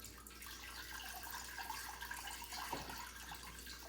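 Very hot water runs steadily from a tap for wet felting wool slippers, a continuous splashing hiss close by with a brief gurgle near the end.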